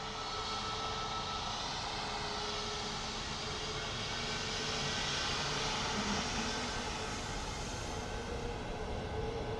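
An aircraft rolls at Dublin Airport, giving a steady, distant engine roar with a broad rushing hum that holds evenly throughout, with no voices.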